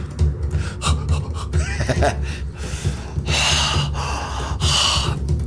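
Deep breaths drawn during a guided breathing exercise, a series of strong close inhales and exhales with gasping, snort-like intakes, loud and unaccompanied by talk.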